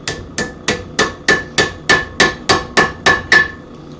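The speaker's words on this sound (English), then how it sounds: "Then I'll come in here and hammer on the back, and that's going to give me a curve" Steady hammer blows on hot metal over an anvil, shaping a curve into the stock; about eleven sharp, ringing strikes at an even pace, close and loud with no talk.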